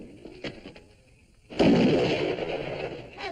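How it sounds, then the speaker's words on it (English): Sudden sharp gunfire in a classic television comedy sketch, a single loud burst that rolls into a sustained noisy roar after a stretch of quieter background sound. "He's shooting his partner."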